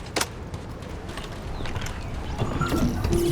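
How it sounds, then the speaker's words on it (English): Footsteps in The First Descendant clop along in a quick, even rhythm close by, mixed with faint mechanical clicks and whirs in the game's ambience. "The footsteps I could hear"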